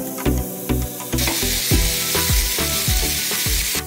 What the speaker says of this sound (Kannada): ಹಾಗೆ ಈರುಳ್ಳಿ, ಶುಂಠಿ ಬೆಳ್ಳುಳ್ಳಿನ ಹಾಕ್ಕೊಂಡು ಚೆನ್ನಾಗಿ ಫ್ರೈ ಮಾಡ್ಕೊಳ್ಳೋಣ.